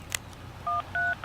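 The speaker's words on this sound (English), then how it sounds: "I can try to make a phone call." Touch-tone phone dialing in the visual novel game Everlasting Summer, a soft tap and then three short electronic tone beeps in quick succession, clean and close.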